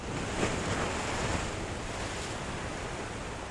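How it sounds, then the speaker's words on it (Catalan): Sea waves at the shore at Argelers, a steady broad wash of surf with a soft swell of breaking water early on, continuous and moderately loud with no voices. "només se sentia el ruïdo del mar"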